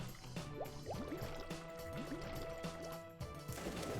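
Underwater bubbling and gurgling in the Ty the Tasmanian Tiger video game as Frill swims beneath the water, with a continuous watery wash and rising bubble blips, steady and moderately quiet.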